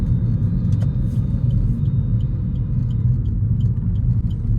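A car cruises along a highway with a steady, loud low rumble of engine and road noise and no pauses or breaks, while a few faint high ticks sit on top.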